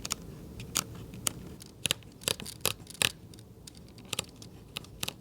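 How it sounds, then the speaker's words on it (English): Nikon Zf full-frame retro camera shutter clicking about a dozen times at irregular intervals, each a short crisp click close by, some single and some in quick pairs, over a quiet room with no talking. "Even the click sound is better on the ZF."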